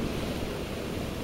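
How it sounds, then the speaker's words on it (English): Ocean waves breaking against rocks along a shore with clear blue water, a steady close wash of broadband surf with slight wind rumble, continuous and alone. "Pardon the waves that are kicking up a little bit. I see they're slamming into the rocks here."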